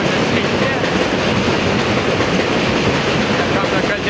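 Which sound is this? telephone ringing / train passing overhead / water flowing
train passing overhead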